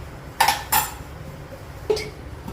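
Salted amla cooking in a pot gets its lid, with two quick metallic clanks followed by a softer clink a moment later, close and alone over a low hum.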